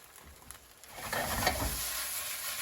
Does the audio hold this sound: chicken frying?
yes